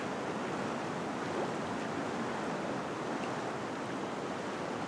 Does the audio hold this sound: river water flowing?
yes